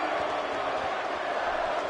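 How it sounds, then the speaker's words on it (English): A wrestling arena crowd roars continuously, a dense wash of many voices that could carry chanting, with no clear individual speech. "the crowd is behind Bray Wyatt, chanting, "Bray's going to kill you.""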